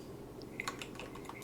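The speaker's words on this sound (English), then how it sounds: "So wait until I'm done typing out the whole question." Light, irregular taps on a computer keyboard come as a quick cluster of soft keystrokes over a low steady background hum.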